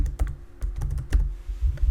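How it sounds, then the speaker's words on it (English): Typing on a computer keyboard, a steady run of fairly loud, thumpy keystrokes heard up close with no talking. "If I start typing"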